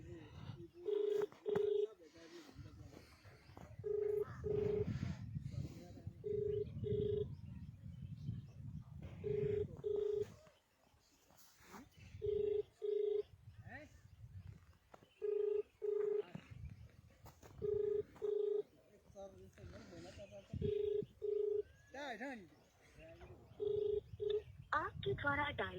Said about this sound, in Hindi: देखिए आपके सामने ही फ़ोन में मिला रहा हूँ